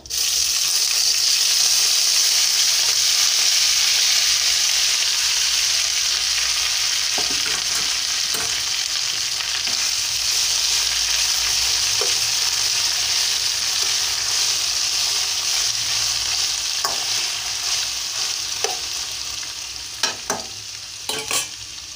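Boiled broad beans fry in a hot pan with a loud, steady sizzle, while a utensil scrapes and stirs them in occasional sharp clicks toward the end.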